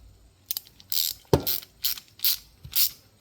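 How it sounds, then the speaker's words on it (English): A fastener being tightened while reassembling a carburetor, heard as several short ratcheting clicks in irregular bursts, close and fairly quiet with no talk. "Tighten that up."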